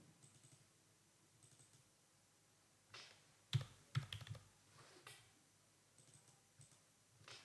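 Quiet keyboard typing while a label is entered in an Excel chart, with scattered soft key taps, a few louder clustered clicks in the middle, and faint sparse taps on either side.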